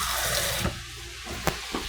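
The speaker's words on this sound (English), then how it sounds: "If you think that it's a little bit too burnt, and pour some water." Water poured from a cup into a hot pan while stir-frying Korean spicy squid, a steady close splashing and trickling stream with a few brief louder splashes, no talking.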